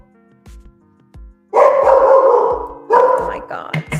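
Dogs barking nearby, loud and close, with short sharp barks and then longer sustained bursts of yapping toward the end. A few brief quieter yips come first.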